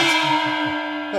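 Nick Nack's small gong from The Man with the Golden Gun rings once, a bright metallic strike whose shimmering tone hangs and slowly fades before a second hit comes at the end.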